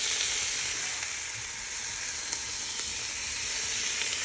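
Bacon sizzling steadily in a cast iron pot over medium heat, a continuous close, even frying hiss with a few faint pops, no voices.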